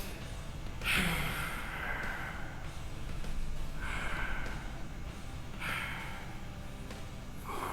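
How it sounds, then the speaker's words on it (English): A deep breath drawn in between sets of an isometric back and biceps workout: several breathy, rushing inhales and exhales recur every couple of seconds, close and moderately loud, with no talking. "Deep breath in."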